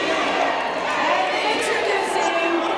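A wrestling crowd at an independent show roars and cheers in a dense, continuous wall of noise, with a commentator's voice talking over the din.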